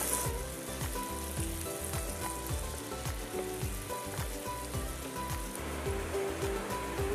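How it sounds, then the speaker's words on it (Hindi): Grated garlic sizzles and fries steadily in a hot pan on the stovetop for several seconds, a dense, continuous crackling hiss heard up close with no talking. "अब हम इसमें डाल देंगे ये ग्रेट किए हुए लहसुन। इसे बस कुछ सेकंड के लिए भून लेंगे,"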